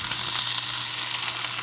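A salmon fillet sears skin side up in a cast iron skillet with a little oil, giving a loud, steady, close sizzle and hiss with no voices.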